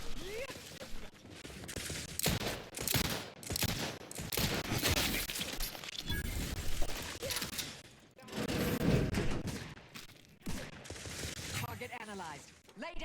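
Outer Worlds 2 combat: sporadic bursts of gunfire and heavy impacts crackle through a chaotic firefight, shots clustered in uneven volleys with talk mixed in.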